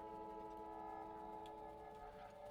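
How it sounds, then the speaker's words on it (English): A train in the video game Factorio rolls past with a steady mechanical rumble and layered tonal hum, loud and continuous throughout with no talking over it. "There's the train."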